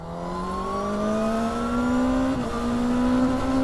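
A Ducati Panigale sport motorcycle in its highest sport riding mode revs alone and close, its engine note climbing steadily with a brief dip near the end before rising again.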